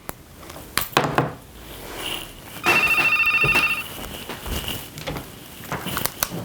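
A telephone rings after a number is dialed, giving one sustained electronic trill in the middle, with clicks and handling knocks of the handset before and after.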